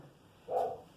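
A single short dog bark, faint and somewhat distant, over a quiet background hum.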